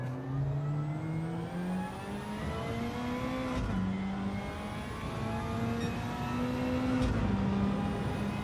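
Race car lapping a track in Gran Turismo 7, its engine droning loudly and rising in pitch through the gears, with two quick upshifts, continuous and close with no talk.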